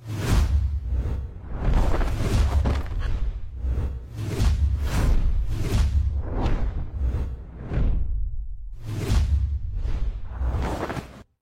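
Whoosh sound effects for an anime edit made in After Effects, a long run of loud, deep swooshes and booming sweeps rising and falling in quick succession, one after another with no gaps.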